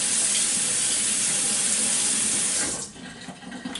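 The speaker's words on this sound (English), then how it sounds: "I'm gonna go ahead and wash off my knife really quick with some soap." Tap water runs loudly into a sink as a kitchen knife is washed with soap, a steady rushing flow that drops off sharply near the end and leaves softer splashing.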